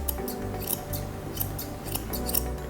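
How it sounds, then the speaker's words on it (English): Grooming scissors trimming the muzzle hair of a Toy Poodle, a quick series of close, crisp snips repeating at an uneven rhythm, with no talk. "I'm just cutting the length that I want her muzzle to be"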